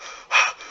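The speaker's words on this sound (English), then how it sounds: "already heavy breathing" A man's heavy breathing, close and unaccompanied by speech: a soft, steady rush of air swells into one louder, harsher exhale midway, then settles back to quieter breaths.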